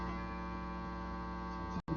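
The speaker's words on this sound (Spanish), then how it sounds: "El ventilador, ya saben ustedes, entonces pido disculpas por el sonido" An electric fan runs in a room, giving a steady, continuous hum with a faint tonal whine, unbroken and fairly even before cutting out briefly near the end.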